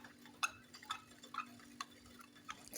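Ayurvedic shampoo mixture stirred in a pot over heat, with light scattered clinks and scraping taps of a utensil against the pot at an uneven pace, close by over a steady low hum.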